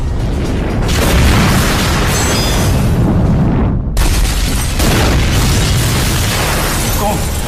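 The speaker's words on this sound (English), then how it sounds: "The sound of the crash came from the direction of Marlena and Stanley's home" A loud, sustained roaring blast fills the clip from a cargo jet crashing into apartment blocks in Amsterdam, a deep rumbling boom with crackling debris noise that briefly drops out, then surges again.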